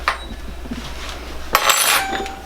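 Metal pot clanks and rattles on a stovetop as butter goes in for homemade jambalaya, a short knock at the start and a brighter cluster of clinks partway through.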